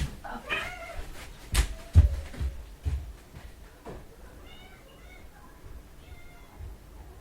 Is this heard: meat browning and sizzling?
no